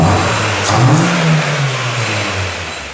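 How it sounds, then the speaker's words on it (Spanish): Revving from the cold 2.0 engine of a Citroen C4 with a fuel-pressure fault and a leaking fuel hose, heard up close. The engine climbs steadily in pitch, holds, then settles back toward idle, with no voices. "Ahí podemos ver que el motor acelera bien"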